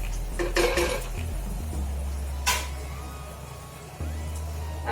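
Lid set down over a pan of freshly cooked Schezwan sauce on a switched-off gas stove, giving a few metallic clinks and a clattering knock up close, followed by a low steady kitchen hum.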